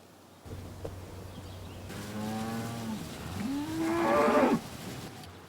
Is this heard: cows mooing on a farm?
yes